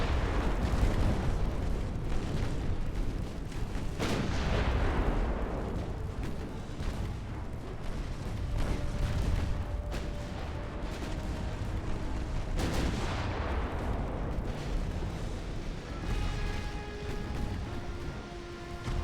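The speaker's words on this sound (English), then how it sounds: "Back to firing on the heavy cruisers, gentlemen." Heavy naval gun salvos roar in Ultimate Admiral: Dreadnoughts as warships fire on heavy cruisers, dense rumbling booms and shell blasts rolling continuously with a few sharp swelling bursts, loud and alone.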